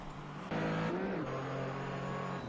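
Porsche 935/K3 race car engine at Barber Motorsports Park, a steady loud drone that swells sharply as the car nears and shifts pitch as it passes, with commentary faintly underneath.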